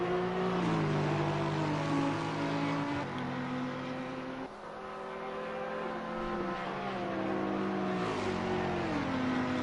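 Race cars battle on track at Bathurst in a sim racing game, engines roaring continuously and loud as revs climb and drop through gear changes, with passing cars and brief tire noise, no voices.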